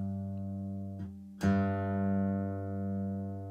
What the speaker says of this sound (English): So this A string, we need to drop down to a G. And that'll sound like that.